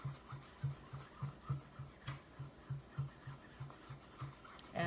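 Soft, rhythmic rubbing strokes as a finger blends chalk paste colours together, about a dozen quiet low swishes in steady succession, close but faint.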